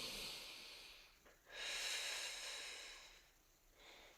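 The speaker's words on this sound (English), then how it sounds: "One more deep breath." A slow, deep breath is drawn in and let out with an airy hiss during a yoga plank, close and quiet with no talking.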